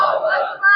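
Large crowd at a religious gathering roars back in unison after a Takbir slogan, a loud sustained chorus of shouting voices lasting the whole moment, dipping briefly then swelling again.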